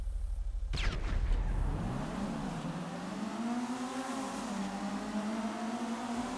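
The Panther race car in a GTA racing game launches from a standing start, with the engine revving up loud and close, then holding a rising, wavering pitch as it accelerates away with other cars audible around it.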